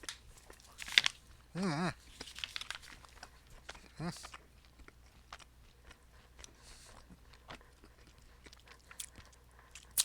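Someone chews a piece of sweet beef jerky close up, with soft wet chewing and a few sharper bites in irregular bursts among quiet gaps, and a brief contented hum from the eater.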